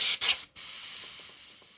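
An airbrush sprays air across a pastel painting in short, loud hissing bursts, cut off twice briefly before a steady spray continues.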